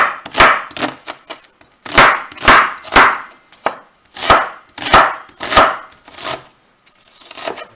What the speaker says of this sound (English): we're going to cut the bacon